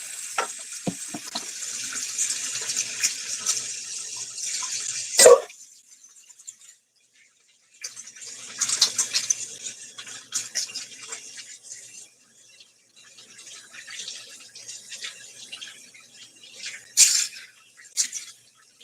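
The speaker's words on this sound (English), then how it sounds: "Wash my hands." Tap water runs into a sink during handwashing in a home kitchen, a steady splashing stream that stops and starts in several stretches with brief sharp knocks between them.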